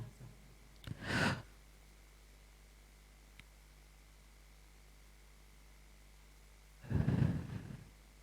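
Two deep breaths drawn slowly through the nose and mouth into the belly, each a soft airy rush lasting under a second, close and quiet against a faint hiss, with a pause between them.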